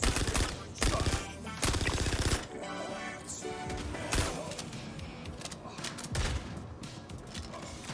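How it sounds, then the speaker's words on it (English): Shotgun and automatic gunfire from a Star Citizen firefight, loud bursts of blasts, a heavy volley at the start and scattered shots and impacts after, over busy game noise. "He's got a shotgun and I hate it"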